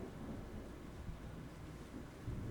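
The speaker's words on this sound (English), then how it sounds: "Does the thunder frighten you?" A low, continuous rumble rolls on with a faint hiss of rain on top, steady and fairly quiet throughout.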